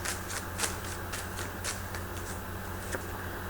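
Tarot cards are shuffled by hand in quick repeated riffles and slaps, close and crisp against a low background hum, with no talking.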